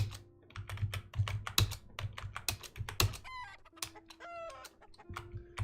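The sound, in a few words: chickens clucking and crowing in video game Geiken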